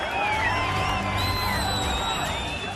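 A dense, loud crowd of unemployed job candidates protesting in Uttarakhand, many voices chanting and shouting together in a steady roar with no gaps, filling the whole stretch.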